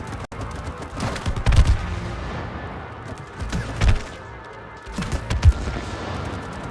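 Gunfire shooting at nests in the video game It Takes Two, bursts of rapid shots and thumps in clusters, fairly loud, with game effects around them.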